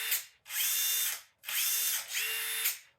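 A Makita XDT19 impact driver runs in three hammering bursts, each about a second long with brief pauses between, loud and close, with a mellow rattling tone and no talk.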